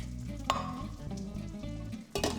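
Alfredo sauce sautéing in olive oil in a pan, made light with no flour or starch; a steady close sizzle runs throughout with scraping stir sounds, and a brief louder burst near the end, with no talking.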